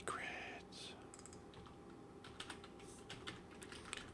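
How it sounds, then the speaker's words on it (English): Someone types on a computer keyboard in irregular bursts of quiet clicks during a live coding session, with soft muttered speech mixed in at low level. "Really struggling with typing."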